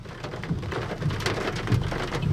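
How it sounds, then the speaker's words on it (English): Heavy rain pours down during a tornado storm south of Putnam, Oklahoma, a dense, steady hiss of drops hitting surfaces close by, with low rumbling beneath and no talk. "It's so dark and there's so much rain around."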